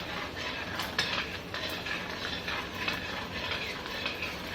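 Gond, edible gum, being stirred in hot ghee in a pan: a steady soft sizzle of frying with repeated scraping and clinking strokes of the spoon against the metal, moderately quiet and close.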